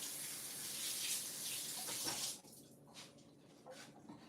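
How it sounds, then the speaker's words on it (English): Steady gushing of a running tap as sweet peppers are rinsed underneath, loud and close for about two seconds before the flow drops to a lighter patter and splash. "So I'm gonna prep my sweet peppers right now. Just gonna wash it up."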